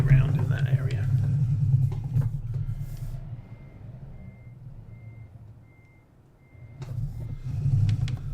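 Reversing beeps from a truck in American Truck Simulator, a steady evenly spaced electronic tone repeating over a low diesel engine rumble, heard alone with no talk.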